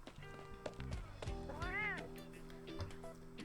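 A cat meows in the video game Arknights, one rising and falling call over a steady background of game music and tones.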